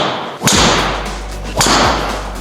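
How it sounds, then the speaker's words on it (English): A Srixon ZX5 MK II golf club strikes a ball twice, each a sharp, loud, close crack followed by a trailing whoosh, with about a second between the hits. "It's a good sounding club."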